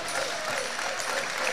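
Crowd at a Saturday night men's volleyball match in Manoa, Hawaii, applauding in a steady wash of clapping and cheering that fills the arena throughout.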